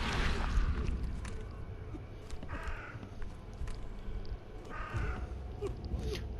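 Birds caw twice in The Sinking City video game, harsh rasping calls a couple of seconds apart, set against a dense, murky ambient rumble with faint squishing and movement sounds.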